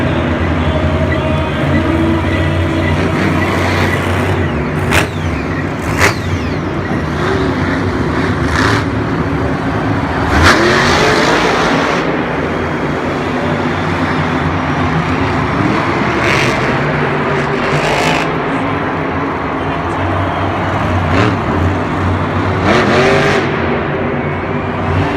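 Monster Jam monster truck Gravedigger, driven by Adam Anderson, roars through a racing run in the Atlanta stadium. Its engine drones loudly and steadily, revving throughout over crowd noise, with a commentator talking over it.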